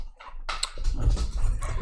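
A dog growls and grumbles close by in short, rough bursts that grow louder and denser toward the end, with some scuffling noise mixed in.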